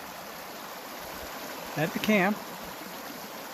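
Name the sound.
creek flowing past the camp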